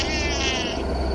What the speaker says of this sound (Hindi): चिक्की, मेरी प्यारी बिल्ली, मेरे पास आओ।